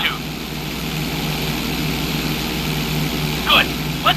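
Propeller plane engine drones steadily in GTA San Andreas during a knife-edge maneuver, a constant mid-loudness hum with brief brighter bursts near the end.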